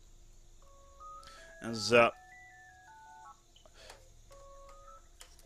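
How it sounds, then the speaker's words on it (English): A phone rings with a short run of electronic melodic beeps stepping up and down in pitch, quiet and set under a voice that speaks briefly. "my phone is ringing"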